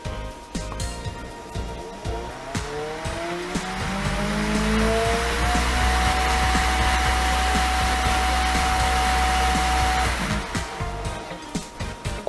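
A Creality K1 Max 3D printer runs its auxiliary fan at full speed, a steady loud whooshing roar that swells midway and holds, with a buzzing rattle from the vibrating chassis over it.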